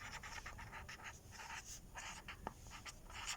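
Marker or chalk writing on a board during a maths lecture, a faint scratchy series of short strokes and squeaks over a few seconds, soft and close, with no talk.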